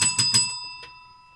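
A small handheld bell rung on a radio call-in show: three quick bright dings, then a fourth softer strike, close and clear, with ringing that decays over the last second.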